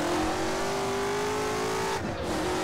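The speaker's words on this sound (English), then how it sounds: "driving this crazy car on this crazy track" A race car engine in the video game rFactor holds a steady high-pitched drone, then drops abruptly as the driver shifts, a loud, continuous motor tone with no talk over it.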